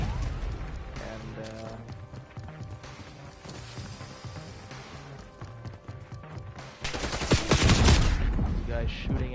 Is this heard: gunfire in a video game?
yes